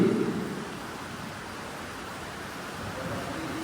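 Heavy rain pouring steadily, a dense continuous hiss that starts slightly louder and then holds even, with no voices.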